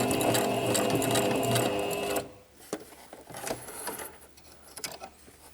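A sewing machine runs steadily through thick fabric for about two seconds, close and loud, then stops, leaving quiet handling clicks and rustles.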